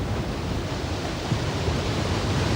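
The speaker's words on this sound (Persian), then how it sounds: "اصلا صدای دریا با آدم نشاط میده" Sea waves wash onto the shore at night in a broad, steady roar of surf, loud and continuous, with rushing wind noise and no voices.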